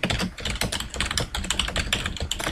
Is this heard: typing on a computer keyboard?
yes